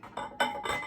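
Kemple milk glass pieces clink together in three distinct bright chinks as they are turned over, close and fairly loud with short ringing tails between taps.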